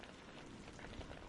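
Steady rain falls on a surface, a dense, even hiss of drops, soft and continuous with no breaks.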